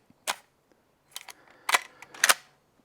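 Gunshots from a Henry .30-30 Winchester lever-action rifle fitted with a scope: a sharp crack, then a quiet pause, then two louder reports close together, each ringing briefly, heard near and with no talking.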